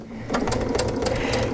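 A sewing machine stitches a quarter-inch quilting seam, its steady rapid whir of needle strokes running continuously and close up without any talk.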